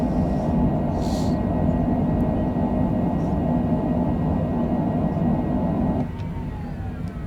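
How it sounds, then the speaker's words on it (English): Airliner reverse thrust roaring during rollout after a nighttime landing at Nashville in a flight simulator, a loud steady broadband rush that eases off toward the end. "Hit those reverse thrusters."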